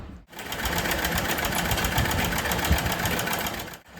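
A sewing machine runs steadily and close while stitching a fabric sash, a continuous mechanical whir with brief pauses at the start and end.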